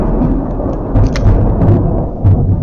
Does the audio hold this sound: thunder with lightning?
yes